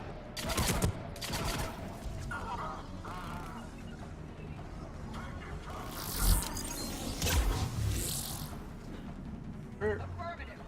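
Gunfire bursts from a Mass Effect 3 firefight, with sharp repeated shots and crashes, loudest in clusters partway through and near the end, set against ongoing game noise and voices.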